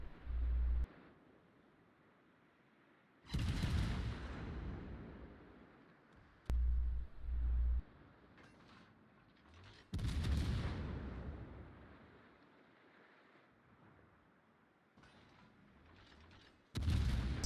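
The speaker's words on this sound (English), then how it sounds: "here's another example of firing over islands in cruisers" Cruiser guns in World of Warships fire over islands in heavy booming salvos, several loud blasts spaced a few seconds apart, each trailing into a rumbling decay.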